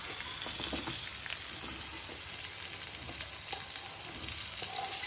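Cut raw mango and curry leaves fry in a hot pan, giving a continuous bright sizzle with crackling bursts and faint stirring, no talking.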